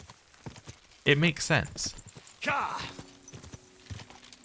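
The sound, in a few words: horse hooves clip-clop, from video game Kingdom Come: Deliverance II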